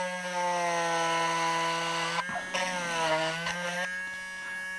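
A cordless rotary tool with a diamond-encrusted bit grinds steadily with a high, even whine that dips in pitch as it bites into the material, continuous and close.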